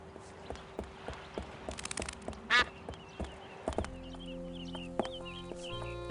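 Duck quacks from Escape from Monkey Island, a few short nasal calls over a busy game soundscape with a steady background music drone.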